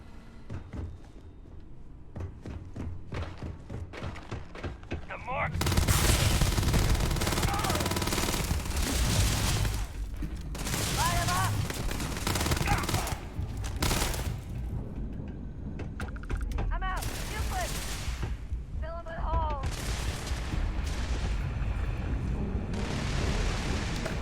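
Gunfire in the Starfield video game, loud bursts and blasts that arrive in clustered volleys with gaps between them, over game sounds, with a voice talking at times.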